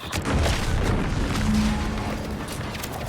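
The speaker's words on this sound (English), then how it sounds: "What's that? An explosion?" Explosion in the video game The Outer Worlds 2, a muffled distant boom followed by a low rumbling roar and debris noise that stays loud for a few seconds.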